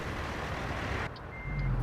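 Peterbilt 567 truck in a trucking simulator backing up under steady engine drone, a thin repeating reverse beep surfacing near the end over a low rumble, no speech.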